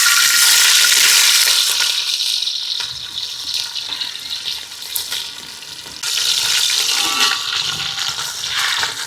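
Chopped onions dropped into hot oil with biryani masala for a crab pulao, giving a loud, steady sizzle and hiss that fades a little midway, then surges again, with no talking.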